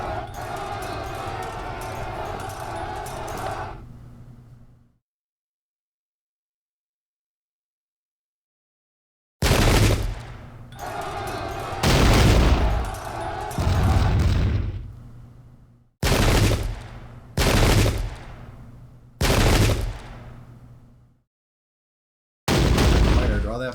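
Musket volleys from the Pike and Shot video game, in a Waterloo battle mod. They come as a string of sharp, booming bursts separated by short silences, and an earlier stretch holds louder continuous noise.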